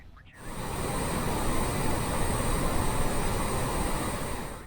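A Honda Jet climbs in Microsoft Flight Simulator, its jet engines rising quickly to a loud, steady, broadband roar that holds for several seconds without any voices.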